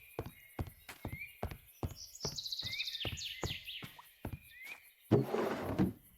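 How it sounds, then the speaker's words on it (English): A donkey in Minecraft, clopping hoofbeats in a steady walking rhythm with a brief braying call in the middle and a louder rustling burst near the end, all fairly close and without talk. "Donkey."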